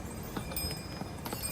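Hooves of a pony climbing the Kedarnath trekking trail, a few soft irregular clip-clop steps over steady background noise, faint and somewhat distant.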